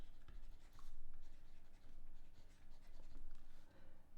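Marker or chalk writing on a board during a geometry lesson on quadrilaterals, a steady run of soft scratchy strokes with short pauses, close and fairly quiet.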